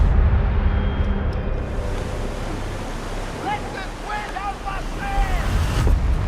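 Open-ocean waves and wind surround a customized Bedar sailing ship in the video game Skull and Bones, a rushing wash with a few seabird-like cries in the middle and a swell of surf near the end.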